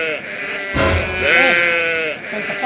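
Sheep bleating up close at a livestock seller's ahead of the Eid sacrifice, a few wavering, drawn-out bleats in a row with other voices faintly behind.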